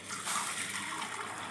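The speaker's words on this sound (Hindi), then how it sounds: "तो अब हम इसमें ऐड करेंगे पानी।" Water poured into a pot of mixed sprouted pulses for a sprout curry, a steady rushing pour lasting the whole moment, close and fairly loud, with no talking.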